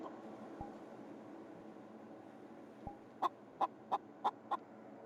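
A video game chicken in a VR roleplay gives a run of five short, evenly spaced clucks after a couple of faint clicks, all above a low, constant ambient hum.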